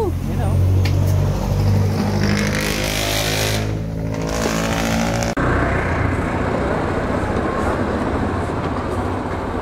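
A Honda Click V2 scooter on a new Quicktires tire runs steadily on the road, its engine drone and rushing wind loud and close throughout, with the rider's voice briefly heard over the noise.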